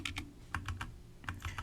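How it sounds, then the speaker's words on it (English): Quick bursts of keystrokes on a computer keyboard, several close, clicky taps in two short clusters with a brief pause between, alone and fairly quiet. "If I started typing some stuff right there"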